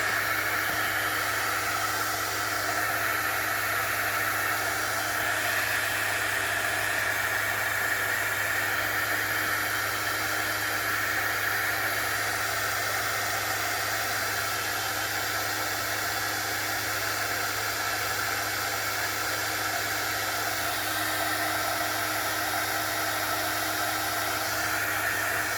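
A hair dryer blowing on a journal page, a loud, steady, unbroken whooshing hiss that holds at an even level for the whole stretch with no talk.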